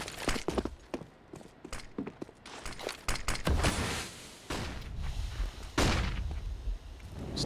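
Footsteps from a player in a Counter-Strike match on the Vertigo map, a quick run of soft steps mixed with sharp gunfire bursts and clatter throughout the busy game audio.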